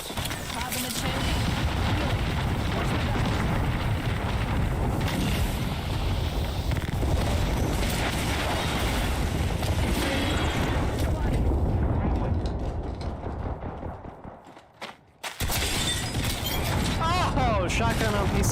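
Shotgun fire in Apex Legends played on PC: loud, dense battle noise with heavy booming blasts that runs almost the whole clip, dips briefly near the end, then comes back.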